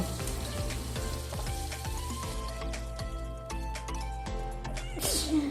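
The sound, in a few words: fish frying in a pan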